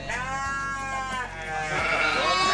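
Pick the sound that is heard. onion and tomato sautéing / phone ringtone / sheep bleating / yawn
sheep bleating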